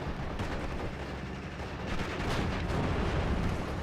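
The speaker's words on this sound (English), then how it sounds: "So now the Panzer IV shooting at a Panzer 40." Panzer IV tank guns firing at a Panzer 40 in the WWII strategy game Steel Division: Normandy 44, a dense, continuous roar of gunfire and battle noise that swells louder in the second half.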